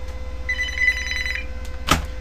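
A telephone ringing with an incoming call, a single close electronic trill lasting about a second, followed shortly by a sharp click or knock.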